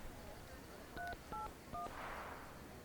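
A telephone being dialed at a church Christmas cultural programme: three short electronic keypad tones at an even pace, faint against a low room hum, with a soft rustle following.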